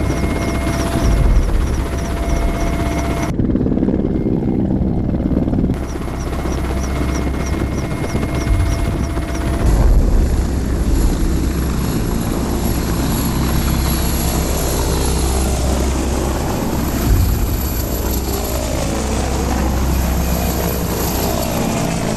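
A military special-forces helicopter lifts off and flies, its rotor and engine roaring loudly and continuously with a steady throbbing beat that grows rougher as it climbs away.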